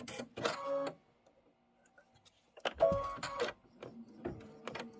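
Embroidery machine running a placement stitch for a quilt skirt, bursts of rapid mechanical stitching separated by a quiet pause, close and moderately loud.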